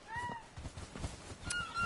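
Honking goose-like bird calls in a couple of short bursts, fairly close, with a steady murmur of background noise between them.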